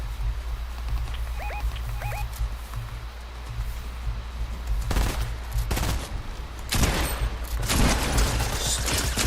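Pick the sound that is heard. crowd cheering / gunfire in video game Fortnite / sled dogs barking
gunfire in video game Fortnite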